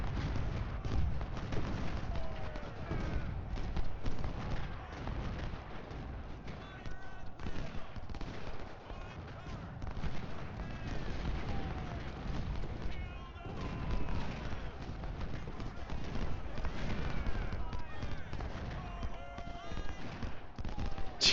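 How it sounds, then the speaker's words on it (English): Repeating rifle fire in Ultimate General Civil War, set at Laurel Hill, crackles steadily over a dense, continuous battle din of rapid shots and scattered volleys, with a voice talking now and then underneath. "The repeating rifle is going to be crazy if I can actually get off 15 shots like this."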